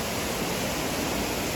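Faery Falls waterfall and river on Mt. Shasta rushing in a steady, dense broadband roar, close and constant throughout with no pauses.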